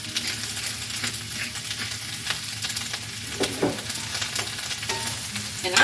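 Seasoned vegetables sizzle in a pan with salt and pepper, a steady close crackle with occasional stirring scrapes.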